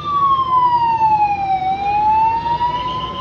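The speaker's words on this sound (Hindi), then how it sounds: "एम्बुलेंस को जाने दीजिए, एम्बुलेंस को जाने दीजिए।" An ambulance siren passes close by as one loud, sustained wailing tone. It slides down in pitch, then climbs back up, over the steady rumble of traffic.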